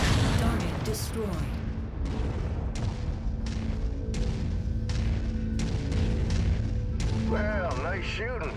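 Mech weapons fire repeatedly in MechWarrior 5: Mercenaries, loud booming shots and crashes at an irregular rhythm over a constant low mechanical rumble, with brief warbling energy-weapon tones near the end and bits of voice beneath.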